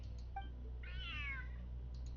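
A cat in the video game Genshin Impact gives a single drawn-out meow, soft and fairly close, over a faint constant hum, with small tonal blips around it.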